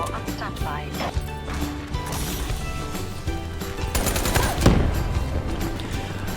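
Rapid gunfire crackles through a video game match, with bursts of shots and a louder cluster near the end, layered under game music and other effects.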